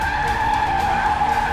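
Car skidding hard and crashing into a parked car outside a house, a loud continuous tyre screech with a steady high squeal held for the whole short moment, close by, with no talk.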